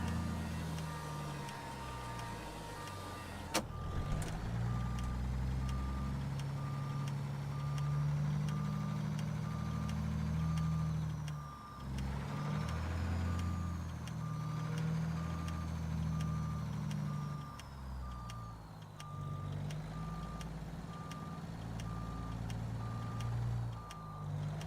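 Steady, rhythmic reversing beeps from a truck backing up in American Truck Simulator repeat loudly over a constant low diesel engine rumble, with a brief sharp click early on.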